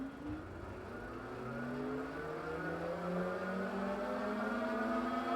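The Mokwheel Basalt e-bike hub motor spins its rear Chaoyang fat tire on a stand, a steady whirring whine climbing in pitch as it speeds up, close and continuous with no talking.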